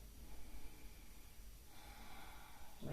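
A person takes a faint, close breath in through the nose during a yoga exercise, a soft sniffing inhale set against quiet room noise.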